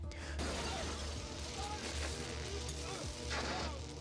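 A heavy television set crashing down with shattering glass and sparks in a Scream film scene, a dense, clattering burst of breaking and mechanical noise with a faint voice mixed underneath.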